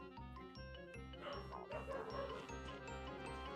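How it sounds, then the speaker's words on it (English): Dogs barking in a steady, repeated rhythm under a bright jingling, tinkling game-music loop from Toontown Corporate Clash, the barks fairly close and at an even level throughout. "Thank you for your input, dogs."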